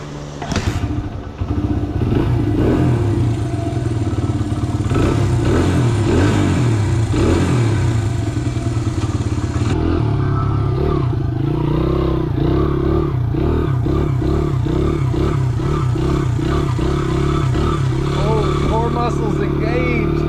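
A small Honda barn-find dirt bike runs on a test ride. Its engine is loud and close, revving and clattering throughout, and the pitch and rhythm change as it is ridden. A voice comes in briefly over the engine.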